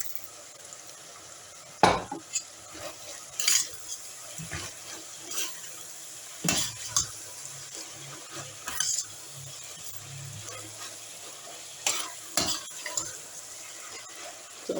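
Carrots fry with a splash of soy sauce in a pan for samosa filling, a low steady sizzle broken again and again by sharp scrapes and clanks of a utensil stirring against the metal, close and alone.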